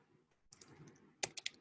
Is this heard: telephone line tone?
no